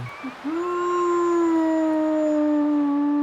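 A female German shepherd howls nervously near the Nevado del Ruiz volcano: a few short yelps, then one long, loud, steady howl held close to the microphone.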